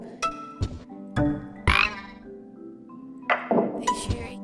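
A frog croaks several times in a storybook scene, loud, close and voiced, in uneven bursts with short gaps between them and no one speaking.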